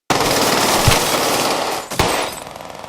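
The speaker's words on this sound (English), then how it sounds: "one of the Cleveland sisters grabs a hidden machine gun and opens fire" A hidden machine gun fired in a brutal shootout in a film, a loud, dense, continuous burst of rapid shots lasting nearly three seconds, with a couple of heavier cracks standing out before it tails off.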